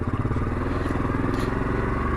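ATV engine running steadily up close while driving on a slick, muddy clay trail, a continuous low motor drone with slight rhythmic pulsing.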